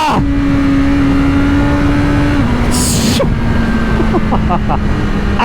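A BMW M1000RR superbike holds a steady high-revving drone on launch control near 8,000 RPM, then the pitch drops slightly as the clutch releases, loud and close with wind roar and a brief burst of noise midway.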